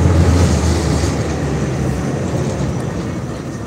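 A tram passes close by as a loud, steady rumble that fades slowly, with rail clatter carried through it.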